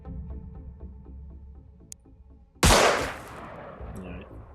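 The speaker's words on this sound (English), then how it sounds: "so it's probably better to just take the aimed shot here" A single loud aimed gunshot in Xenonauts cracks out sharply and decays over about half a second, set against a rhythmic game music background with a faint click just before.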